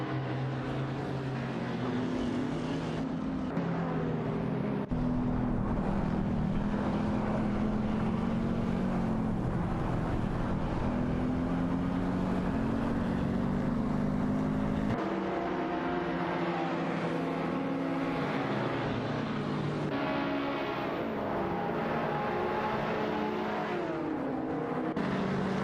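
Racing cars in a video game roar away from the start with layered engine drones, revving and climbing in pitch, several cars blending into a loud continuous whine with gear-change shifts, no talk.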